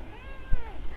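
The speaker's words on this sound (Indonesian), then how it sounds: "Ada baby cat. Ini ada kucing aku, tapi aku belum kasih nama." A young kitten gives a couple of thin, wavering meows close by, with a soft bump in the middle and quiet room tone around it.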